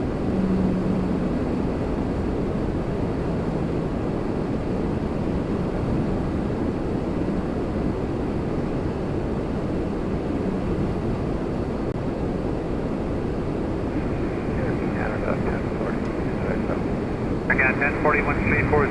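An Embraer 195 E2 airliner rumbles steadily at Toronto Pearson, a continuous low engine roar heard from a distance with people talking over it throughout.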